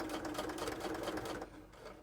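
A sewing machine runs a straight stitch for appliqué, a steady close mechanical whir with fast needle clatter, easing slightly near the end.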